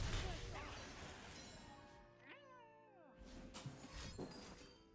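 A cat meows at a door it has been scratching to get in and out, a single clear rising and falling meow in the middle, with rustling and scuffing noises before and after.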